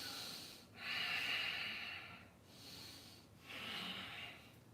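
Slow breathing during a yoga pose, three long, audible breaths through the nose at a steady, unhurried rhythm, close and quiet with no talk.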